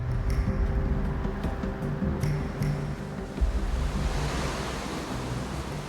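Sea surf breaking below sheer 30-metre cliffs on Orkney, a continuous broad wash of waves with wind buffeting the microphone, steady and fairly loud, with no voices.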